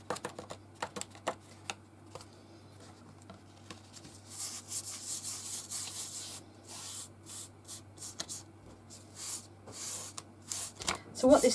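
Excess glitter being rubbed off a craft background with a Scoochie tool, a series of close, scratchy brushing strokes that grow busier partway through, with a voice faintly present.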